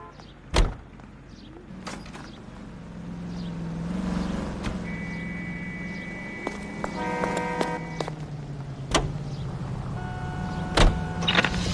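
Car driving in the video game L.A. Noire: a steady low engine hum runs throughout, broken by a few sharp clicks and thumps like doors, and by tonal electronic beeps partway through.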